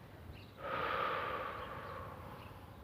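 A single long, audible exhale during a guided breathing exercise, close and soft, swelling in and easing off over about a second and a half, with no talking around it.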